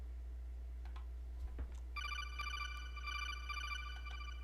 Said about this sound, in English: And you actually both get a codec call.